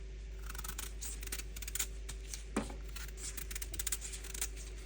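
A yam being peeled by hand in a kitchen, giving soft, rapid scraping strokes in an uneven rhythm, close and quiet, with no talking.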